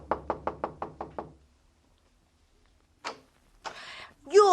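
A house door is knocked on for a radio drama, with a quick run of about seven sharp raps close up, then silence before brief voices and noise follow.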